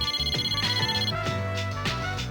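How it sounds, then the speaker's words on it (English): Phone ringtone chiming for an incoming call in Persona 3 Portable, a bright repeating melodic pattern of tones over a steady electronic backing, heard alone and fairly loud. "Mitsuru received an incoming call on her phone."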